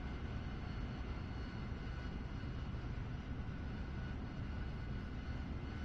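Steady, loud roar of an AV-8B Harrier jet engine in the DCS flight simulator, hovering during a vertical landing descent, continuous broadband rumble with no voices.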